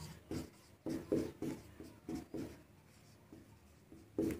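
A pen or marker scratches out maths working on a board or paper. The strokes are soft and short, arriving in an uneven rhythm over a few seconds, faint and close, with no talking.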